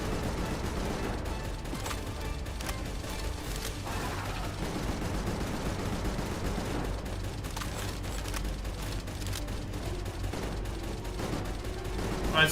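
Rapid gunfire from shooting in the Palworld video game, a steady dense clatter of repeated shots running throughout at a loud, even level, with mechanical ratcheting textures mixed in.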